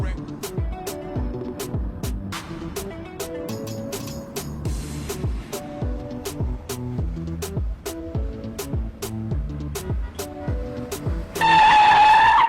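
A car drives under a rhythmic, pulsing music-like bed of repeated hits, with a sharp tire squeal rising loudly near the end.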